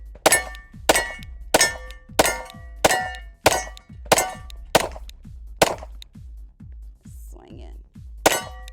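Pistol rounds from a .40 caliber Glock ring off a steel target in a rapid series of about ten loud, bright clangs, each with a short metallic ring, then a pause and one final hit.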